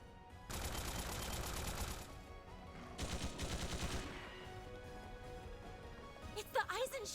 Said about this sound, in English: why are they firing at us?